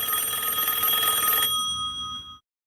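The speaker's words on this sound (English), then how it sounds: "Oh, what's that? It's a phone." A telephone rings with a bright, continuous electronic bell tone for about two seconds, then fades out, heard alone and close by.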